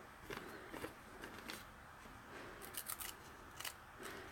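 Scissors snipping through paper for a collage art journal, a run of short crisp cuts in irregular bursts, fairly close and quiet, with no talking.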